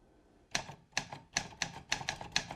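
A manual typewriter gifted by Tom Hanks, its keys struck in a home in Wellesley: about eight sharp, crisp clacks in an uneven rhythm, close and clear against a quiet room.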